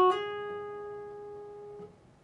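A single plucked electric guitar note rings out, then a second note sounds softly near the end as the ring finger hammers onto the 14th fret of the G string, sustaining alone.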